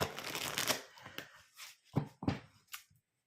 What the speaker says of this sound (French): Alors, on va mélanger les jeux.